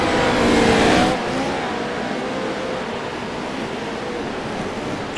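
Pro racing truck on a dirt special stage at Bark River, its engine roaring loud and steady, with a louder, brighter burst at the start settling into a continuous rumble.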